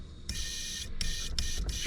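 A Gaahleri airbrush, run from its compressor with pressure at about 25, sprays into a cleaning jar in four sharp hissing bursts, each stopping abruptly, over a steady low compressor hum.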